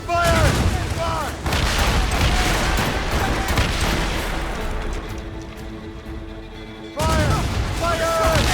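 Naval cannons fire from a sailing warship in Assassin's Creed Rogue, a loud rolling barrage of booms during a sea battle, with shouting voices on deck over the volleys.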